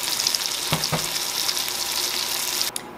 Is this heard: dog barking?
no